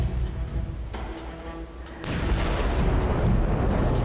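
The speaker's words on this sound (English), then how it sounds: "Those are bombs. Did you hear? Those are bombs." Dynamite fishing blasts from a neighboring island off Lamalera, Indonesia, come as distant, muffled booms, a few low thuds followed by a sustained rumbling roar that swells and stays loud.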